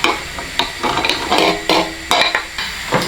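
Courgettes sauté in olive oil in a pan over high heat, a steady sizzle with repeated scraping and clinking as they are stirred and tossed, no speech.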